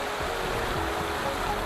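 Steady rushing water from a waterfall beside a pond in the video game Wuthering Waves, a continuous broadband roar that holds at an even level throughout.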